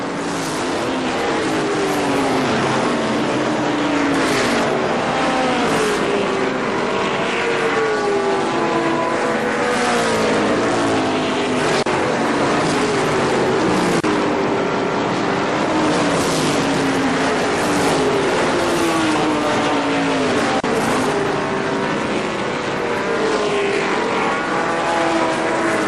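ARCA SuperCars racing on the oval at Kil-Kare Speedway, a continuous loud roar of several engines with pitch sweeping up and down as cars pass and overlap, steady throughout.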